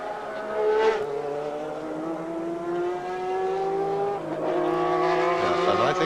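Formula One race car at the 1990 Australian Grand Prix qualifying, its high-pitched engine note dropping as it slows, then climbing and falling again through gear changes, loud and close with faint tyre noise.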